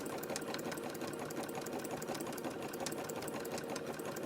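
A sewing machine zigzag-stitching fabric-wrapped rope for a bowl runs in a continuous, even mechanical whir with a fast stitching rattle, steady and close throughout.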